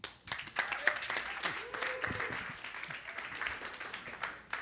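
Applause from a conference summit audience welcoming a speaker to the stage, a steady wash of many hands clapping that carries on throughout, fairly distant and even in level.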